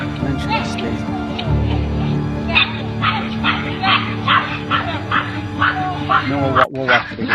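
Several dogs bark, yip and whimper in a repeated run of sharp yaps, heard from played footage while a person talks over it.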